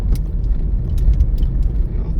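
Car driving along Ala Wai Boulevard in Honolulu, Hawaii, heard from inside as a steady low road rumble and engine hum, with light rattles on top.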